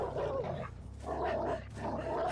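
The Houndmaster's dog in the video game Dead by Daylight gives close, rough growling snarls in two or three gravelly bursts over a low background rumble.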